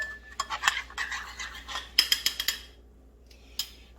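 Pastry brush strokes spreading garlic butter mixture over bread on a baking stone, a run of soft scraping bristle sounds with light clicks and taps, close and fairly quiet, no talking.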